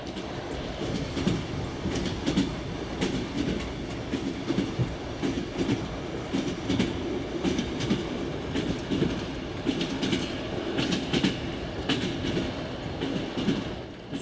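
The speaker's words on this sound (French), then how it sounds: "Dernier coucher de soleil et dernière nuit à bord du Transsibérien." The Trans-Siberian train rolls along the rails, heard from on board as a steady rumbling drone with repeated clickety-clack wheel beats over rail joints and occasional faint squeals, continuous and without voices.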